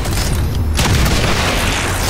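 A boltcaster fires in the XCOM video game, a loud, full-bodied boom with a burst of noise that swells and rumbles on through the whole short stretch.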